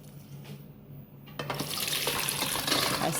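Chickpeas being washed under a running kitchen tap: a faint hum gives way to a sudden loud gush of water splashing into a sink, with sporadic clinks and sloshing as the stream continues.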